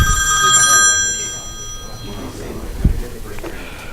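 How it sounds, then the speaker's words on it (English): A mobile phone rings with a bright electronic ringtone, loud and close, for about a second and a half in a classroom lecture, then cuts off as someone speaks over the quieter room. "whoops, sorry about that. Forgot to turn off my phone."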